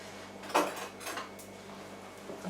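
Utensils clatter and scrape in a home kitchen during a search for a spoon, with a couple of short, clinking bursts at moderate distance, while Punjabi basmati rice is being cooked.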